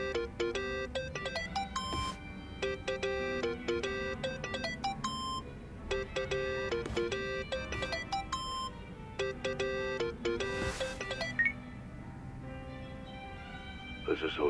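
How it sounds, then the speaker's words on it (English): Phone ringing in the video game Yakuza: Like a Dragon, a repeating electronic ringtone melody in short bursts over several seconds, heard beneath voices talking. "Think that's your phone"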